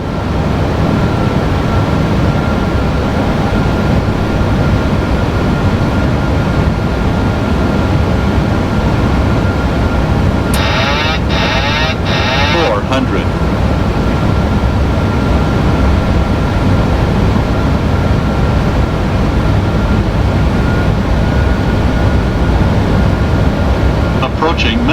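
An aircraft landing in the video game Microsoft Flight Simulator 2020, with a loud, steady broadband engine and wind roar throughout, interrupted midway by a short burst of rapid electronic beeping.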